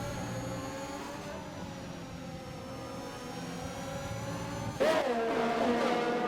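Racing cars in a sim racing video game battle at the Austrian Grand Prix, with a steady layered engine whine, then a sharper revving surge near the end.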